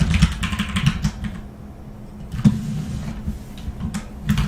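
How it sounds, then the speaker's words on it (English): Clattering keystrokes on a computer keyboard, irregular bursts of fast typing with short pauses, close and fairly loud, no voices. "I'll try to be quieter on the keyboard, sorry about that."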